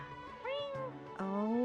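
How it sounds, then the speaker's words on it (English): Cats meowing in Genshin Impact, several rising and falling meows in quick succession, one starting around the middle and another longer, higher call near the end, fairly close and clear over a faint game background. "Your cats seem pretty worked up."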